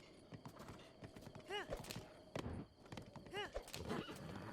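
A horse gallops in the video game Breath of the Wild, quick clip-clop hoofbeats with a couple of whinnies, under excited talk and laughter from players.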